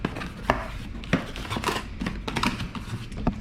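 A cardboard box holding oil filters for small block Chevys is opened by hand, giving several close, sharp tearing and crinkling bursts at an uneven rhythm, with no talk over them.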